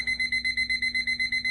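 A timer alarm goes off with a rapid, steady series of about eleven high, piercing electronic beeps, loud and close, with no voices.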